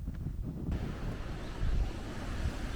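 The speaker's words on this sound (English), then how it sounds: "the wind was really beginning to pick up" Wind buffets a microphone outdoors, a heavy low rumble that strengthens after a moment and keeps gusting unevenly, loud and close, with no voices.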